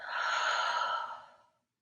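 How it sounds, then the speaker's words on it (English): A long, slow breath released out through the mouth after a deep nasal inhale, a soft airy sigh that swells, holds and fades over about a second and a half, close and alone in a quiet room. "Take a deep inhale in through the nose and exhale out the mouth"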